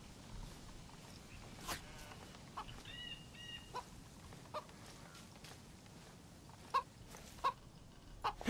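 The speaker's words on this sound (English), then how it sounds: "I'm not chasing a chicken." A chicken clucks in the survival game DayZ, giving a few soft, short clucks near the start. Faint footsteps and scattered ticks and taps follow over a quiet, hissy outdoor background.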